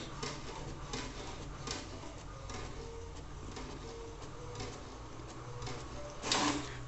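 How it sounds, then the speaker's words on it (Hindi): HP Deskjet 1112 inkjet colour printer running a colour page, a steady mechanical whirr with repeated carriage passes and short bursts, ending in a louder scraping feed near the end, heard close and alone. "देख सकते हो प्रिंटर शुरू हो चुका है। सबसे पहले कलर प्रिंट हमारा निकलेगा"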